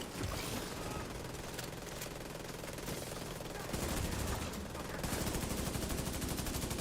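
Rapid bursts of gunfire crackle steadily throughout, dense and harsh like a machine-gun sound effect, with the texture shifting partway through and again near the end.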